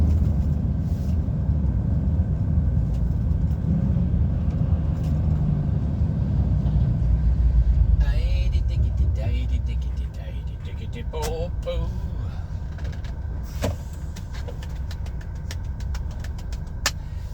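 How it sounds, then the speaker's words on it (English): Heavy road traffic on the A6 heard from inside an HGV cab near Manchester: a continuous low engine rumble with passing vehicles and occasional clicks, under someone talking. "So what we want now is this lovely heavy traffic."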